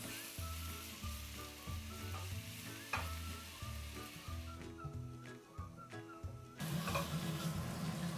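Steady sizzling from mushrooms frying in a pan over medium heat, with music playing throughout and a few soft clinks; the sizzle grows louder toward the end.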